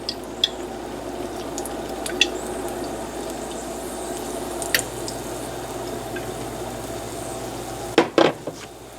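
Extra oil is poured into a hot pan while cooking chow mein, giving a steady sizzle with scattered small drips and light clinks, ending in a brief louder clatter of cookware.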